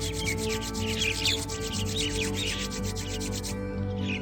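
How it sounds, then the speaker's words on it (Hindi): Two palms rub together in a steady, dry swishing stroke, close and continuous for a few seconds over a faint low hum, with no voice. "दोनों हाथों को रब करेंगे आपस में"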